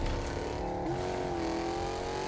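A car driven in the Fortnite video game: a steady, loud engine drone whose pitch bends upward briefly, with a faint tyre squeal mixed in, and no voices.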